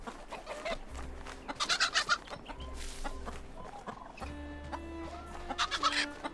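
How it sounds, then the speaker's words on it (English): A chicken clucks in the video game RuneScape: Dragonwilds, with repeated short clucks and squawks over game music and effects, fairly close and clear. "Chicken?"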